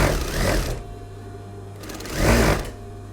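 Two short, close runs of a sewing machine stitching a single hem over an overlocked or zigzagged edge, separated by a pause where a faint low hum lingers.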